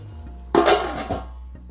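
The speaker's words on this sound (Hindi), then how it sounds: "ढक्कन ढक देते हैं" A single metallic clink and brief ringing as a lid is set onto a pot of spinach and mutton cooking on the stove, close and clear over a low hum.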